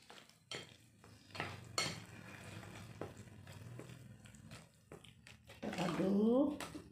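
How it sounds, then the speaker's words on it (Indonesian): A spoon scrapes and clinks against a pot while salt and powdered broth are stirred into cooking food, with soft sizzling underneath and a voice talking throughout. "Kemudian garam dan kaldu bubuknya masuk. Kita aduk dulu."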